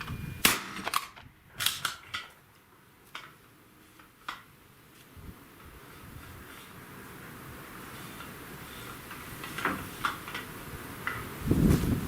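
A Retay GPS shotgun failing: a series of sharp metallic clicks and snaps in the first few seconds, close and crisp, followed by quieter scattered clicks and low rustling.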